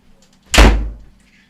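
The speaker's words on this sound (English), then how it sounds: "gonna shut this door" A door is shut hard indoors, making one loud, close slam that rings briefly and then fades into a quiet room.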